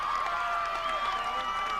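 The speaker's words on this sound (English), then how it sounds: "The crowd's going crazy." At a 1989 ultimate frisbee national final between NYNY and Tsunami, a crowd roars with sustained cheering, high whoops and shouting that stays loud and continuous throughout.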